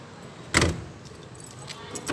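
Keys jangle near the rear door of a 2023 Mitsubishi L300 during a lock replacement, one clear bright metallic rattle followed by a few faint clinks in a quiet setting.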